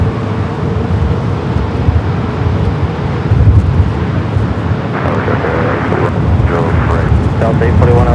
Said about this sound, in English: Emirates already cleared for takeoff. Flight 216 heading back to Dubai. This A380 Super